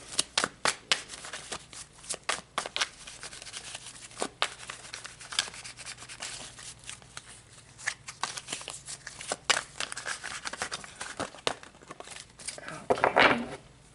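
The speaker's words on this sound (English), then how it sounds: "So let's draw some tarot to see exactly what this energy is talking about." Tarot cards are shuffled at close range in a series of quick riffling, slapping bursts, with sharp clicks spaced through the stretch and a louder flurry near the end, alone without talk.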